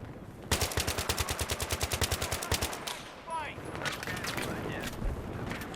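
Rapid automatic gunfire rattles in a fast, even burst in the Battlefield 3 video game on the Sharqi Peninsula map, followed by scattered shots, whizzing effects and game noise, with a voice talking over parts of it.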